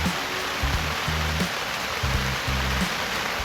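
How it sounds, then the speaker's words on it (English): Steady rain falls outside on a chilly day, a continuous soft hiss of drops, with a few low rumbling bursts underneath and no voices. "Do you hear the rain?"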